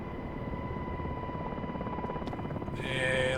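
A UH-60 MH-60R helicopter in a flight game fills the scene with a steady, loud rotor thrum and engine whine, broken near the end by a brief higher-pitched cockpit alert tone.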